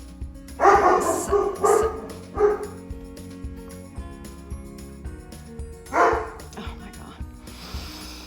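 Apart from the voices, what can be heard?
dog Rin barking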